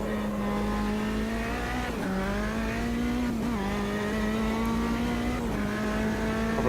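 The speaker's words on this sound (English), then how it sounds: "Proper prototype type car, like you would expect with the modern ones with the closed cockpit." Closed-cockpit prototype race car on the Bathurst circuit in Automobilista 2, its engine howling loud and close as it climbs through the gears, pitch dipping at each shift, with the roar holding steady throughout.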